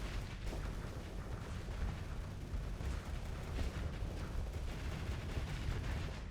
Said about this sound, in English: Oh my lord, look at those missiles.